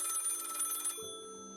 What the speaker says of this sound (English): The sound of the rotary phone clattered through the sterile silence of his quadrant.